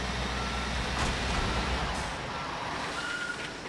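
A truck reverses in the Construction Simulator video game, a steady engine drone with faint reversing beeps running throughout, fairly close and continuous without talk.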